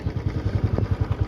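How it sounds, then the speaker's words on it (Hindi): Tractors hauling trolleys along a dirt farm track during the village paddy harvest, a close, steady low engine chug with a regular rapid pulsing rhythm, loud and continuous with no talk. "सभी की धान कटाई लगी हुई है, ट्रैक्टर्स और ट्रॉलीज ज़्यादा जा रहे हैं।"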